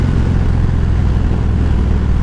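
A motorcycle engine drones loudly and steadily while riding, a thick continuous low rumble with no breaks.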